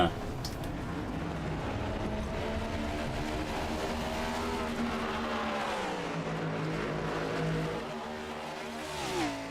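Gen 7 Cup race cars circle Daytona's infield in a racing video game, engines droning and revving in sustained whines that rise and dip through gear changes, with commentary running over them.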